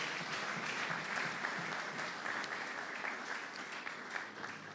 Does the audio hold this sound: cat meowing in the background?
no